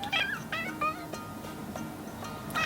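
A cat named Fuzz meows repeatedly indoors, several short, nearby, rising cries in quick succession with no talking.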